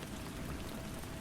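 Steady rain falling, a dense even hiss of drops with no gaps, alone and moderately soft.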